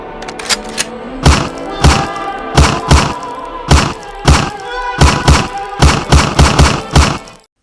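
Gunfire in Bloodborne against the Wet Nurse boss, a series of loud, sharp single shots spaced about half a second apart, booming with short ringing tails, punctuated by a few quicker clusters near the end.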